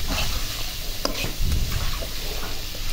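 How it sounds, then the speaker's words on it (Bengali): Spice masala being stirred and fried with beef liver in a pan, a steady close sizzle with scraping spatula strokes and occasional louder stirring bursts throughout. "তো এখন আমি ভালো করে সব মিক্স করব মশলাটা, সব ভালো করে মেখে কষিয়ে নেব ভালো করে কলিজার সাথে"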